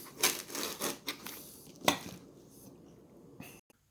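Foam pattern piece being sliced off with a blade: a few close scraping, clattering cuts in the first two seconds, then a fading rub before sudden quiet, no voices.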